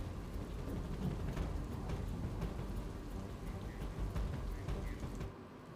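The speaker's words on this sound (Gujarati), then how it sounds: "સતત 1 કલાકથી ધોધમાર વરસાદ પડી રહ્યો છે" Heavy, constant downpour over Una in Gir Somnath, a dense roar of rain with sharp drop impacts and a deep distant rumble like thunder underneath, loud and unbroken throughout.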